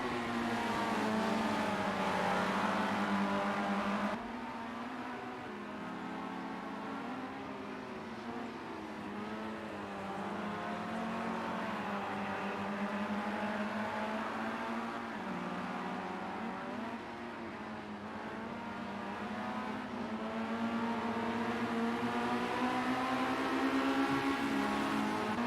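Formula race cars in Project CARS 2 lapping the Fuji GP circuit, a steady, continuous engine drone with shifting pitch as cars rev and pass, loud and sustained with no voices.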